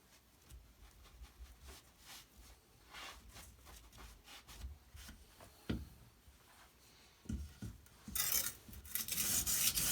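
A chef's knife being sharpened on an Edge Pro stone system, with soft rhythmic rasping strokes, fairly quiet and close, growing louder and brighter toward the end.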